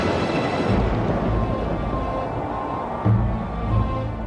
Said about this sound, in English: Moses would speak, and God would answer him in thunder